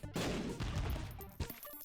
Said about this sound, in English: I'm just gonna blow this all up right here